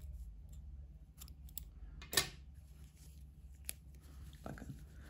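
A single crisp snip of scissors cutting knitting yarn, close and clear against a quiet background, with a few soft handling clicks afterward.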